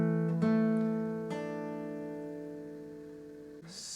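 A single fingerstyle guitar note, fretted at the 3rd fret of the B string in the chorus of a song, is plucked once and rings clearly, slowly decaying alone.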